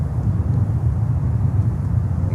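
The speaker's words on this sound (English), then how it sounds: "Go around Atlas Air, runway 8, 747." An Atlas Air Boeing 747 going around at Miami airport, a steady loud roar of jet engines with wind buffeting, continuous and unbroken across the whole stretch.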